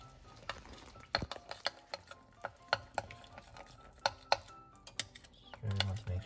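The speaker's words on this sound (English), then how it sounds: "I'm just going to start to dissolve the curry roux by just mixing it with some of the soup" A curry roux is stirred to dissolve it into soup for Japanese chicken curry. A spoon clacks and scrapes against the pot in irregular close knocks over a quiet background, and a low rumble swells near the end.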